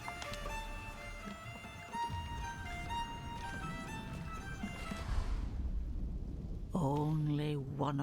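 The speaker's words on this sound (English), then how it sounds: "So let's enjoy the storm a moment." Rain and a rolling thunderstorm in the game Diablo IV, a steady wash under sustained musical tones that fade out, after which a voice speaks briefly.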